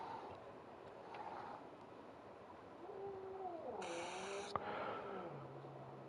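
Pet cat meows in a drawn-out, wavering cry near the middle of the clip, fairly faint over a low background hum, followed by a brief steady tone.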